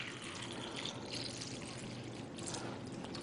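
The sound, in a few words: pouring tap water into a container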